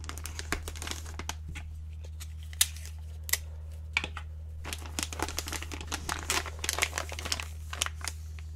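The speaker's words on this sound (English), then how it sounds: "my wrapping is like kind of just holding it all in place until I can secure it with tape" Gift wrapping paper crinkling and rustling close up in a quiet room, a busy series of sharp crackles and soft crumples with occasional louder snaps, no talking.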